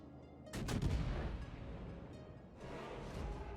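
Naval guns firing shells in World of Warships from a Tier VII Russian cruiser, the Shchors, a faint booming salvo of several quick thuds followed by rumbling, then a second swell of rumble.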